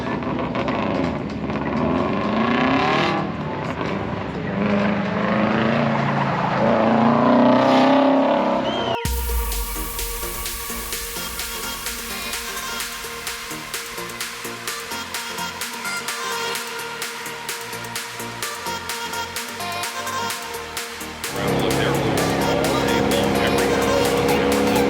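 Alex's car driving at Wicked Big Meet, an engine loud and near with a steady sustained drone, following an earlier stretch of rougher roaring and crowd-like noise.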